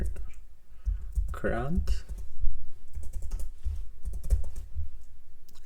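Rapid clicks from a computer keyboard as a project name is typed, a quick run of close keystrokes mixed with someone speaking.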